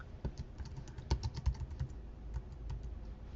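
Rapid, uneven clicking of computer keys being typed, a close, soft run of taps with short pauses between bursts and no talking.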